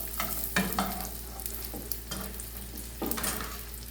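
Breakfast food sizzling and frying in a pan while being stirred, with a steady hiss and several soft scraping stirs spaced through the clip, close and moderately quiet.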